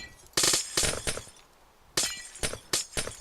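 Blocks of ice break in Minecraft with sharp, glassy shattering bursts, two close together, then a pause, then three more in quick succession.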